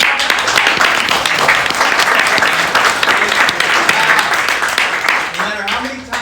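Sustained applause from a live audience at a business talk as the speaker Tanner Mullen comes up, loud and dense clapping throughout, thinning slightly at the end.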